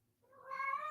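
A single short cat meow, faint at first and rising into a clear tonal call lasting under a second.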